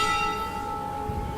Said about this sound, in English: the prasadam bell is calling